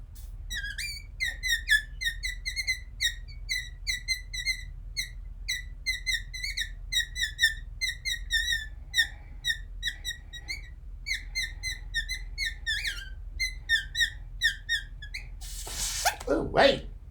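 An inflated balloon animal is squeezed into a long series of high rubbery squeaks, pulsing in a steady rhythm close by for many seconds, ending with a louder rustling burst.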